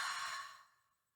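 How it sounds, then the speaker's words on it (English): A single slow exhale out through the mouth during a bedtime yoga session, breathy and close, starting fairly strong and fading away to silence within about a second. "And then exhale out the mouth."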